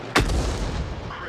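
A Bishop self-propelled artillery piece fires once in World of Tanks, a single sharp, booming report followed by a rumbling tail that rolls on for about a second.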